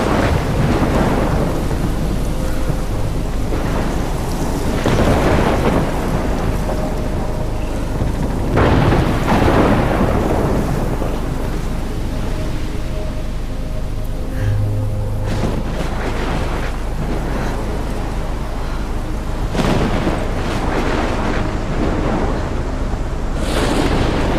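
Heavy rain pours nonstop in a storm in the video game Life is Strange, with several loud, booming thunder cracks and rolling rumbles breaking through the hiss.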